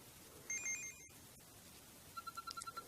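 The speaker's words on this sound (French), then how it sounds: "Ça, c'est le signal qui indique la publication d'un nouvel article." A short electronic notification jingle from the Inazuma Eleven video game signals a new blog post: a two-tone chime, then a quick string of rapid beeping tones, quiet and alone.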